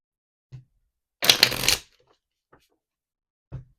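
A deck of tarot timing cards is shuffled in one quick riffle burst lasting about half a second, close and clear in an otherwise quiet room, with a few faint taps before and after.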